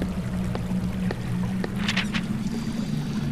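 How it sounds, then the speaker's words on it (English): River water flowing over stepping stones in The Warlock of Firetop Mountain video game: a steady rushing wash with a low hum beneath and a few scattered splashy trickles and droplet clicks. "The water is flowing over the stones"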